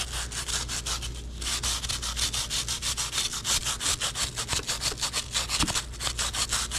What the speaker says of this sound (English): you're simply going to start to scrub and rub off some of that rust and dirt buildup that gets in between the links